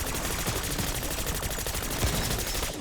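Dual-wielded Grekova pistols firing in a video game, a loud, dense and continuous stream of rapid shots that runs without a break for nearly three seconds and cuts off at the end, with no talking.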